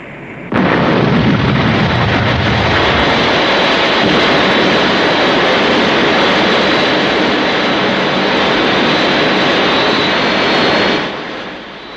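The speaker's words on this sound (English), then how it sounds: "Well, Colonel, that's some aircraft you've got there." A jet aircraft roars past, a loud sustained broadband rush that holds steady for about ten seconds before cutting off, with a brief low rumble at the start.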